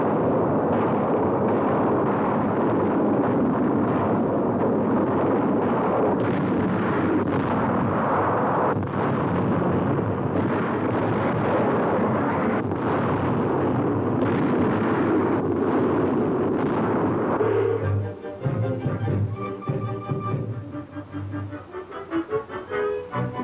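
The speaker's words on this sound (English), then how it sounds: "the people of France get a heartening close-up of the Royal Air Force destroying the war plants" RAF bombing of war plants in France in 1943, a dense, continuous rumble of blasts and thuds that stays loud for most of the stretch, then gives way to a thinner, choppier sound near the end, with no talking.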